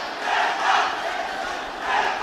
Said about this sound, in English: And the crowd getting right on top of UAE.